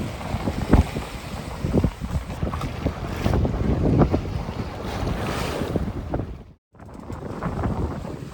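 Strong wind roars and gusts steadily at 23 to 30 knots around a sailboat on a solo passage at sea, with water wash and microphone buffeting, loud and continuous apart from one brief lull.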